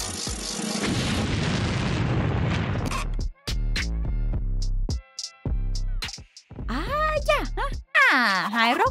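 A cartoon bomb explodes in an animated Thai story about sisters, a dense roaring blast lasting about three seconds before it gives way to animated voices and bright musical tones.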